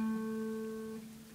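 An acoustic guitar fretted with the index finger on the second fret rings out as one sustained, mellow tone that slowly fades, then a fresh pluck sounds right at the end.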